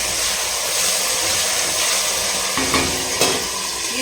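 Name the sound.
green chillies sizzling while frying for coriander chutney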